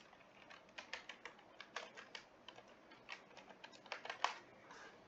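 Quiet, steady keyboard typing: a run of light clicking keystrokes in irregular bursts with short pauses between them, alone with no talking.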